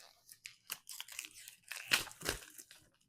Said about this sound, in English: it's shrink wrap, so let's go ahead and cut that open